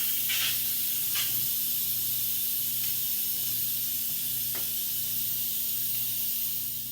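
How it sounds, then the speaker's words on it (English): Steady, loud hiss of pressurized steam escaping from an Instant Pot's release valve, continuous and unbroken for several seconds with a faint low hum beneath. "we are going to release the pressure"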